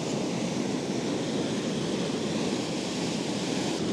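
Ocean waves crash on the shore close by, making a dense, steady roar of surf and spray that stays loud throughout, with no voices.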